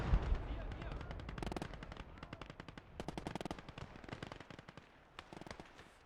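Gunfire in the WWII game Gates of Hell: Ostfront, with rapid machine-gun bursts and scattered rifle shots cracking in irregular clusters against a low rumbling battlefield background, fairly faint overall.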